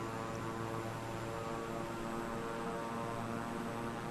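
An airplane engine in MS Flight Simulator drones steadily during a landing approach, a continuous even propeller hum with a layered tonal whine, unchanging and uninterrupted throughout.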